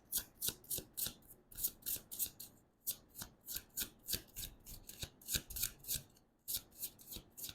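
A deck of occult tarot cards is shuffled over and over in quick, crisp riffling bursts, close and fairly quiet with brief pauses between runs, and no one speaks.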